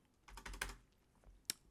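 Computer keyboard keys are pressed in a quick cluster of soft clicks, followed after a pause by a single sharper keystroke, all quiet and close.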